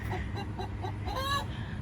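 Pet hen Marigold clucks and sings from nearby, a soft series of rhythmic clucks building into a few rising, drawn-out warbling notes.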